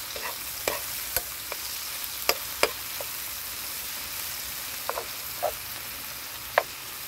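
Ilocano diningding with wild taro is stirred in a pot, giving sparse, sharp clinks and scrapes of a utensil at irregular intervals. A faint, steady hiss sits underneath, and no one speaks.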